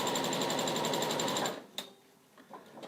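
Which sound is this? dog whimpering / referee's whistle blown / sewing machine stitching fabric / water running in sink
sewing machine stitching fabric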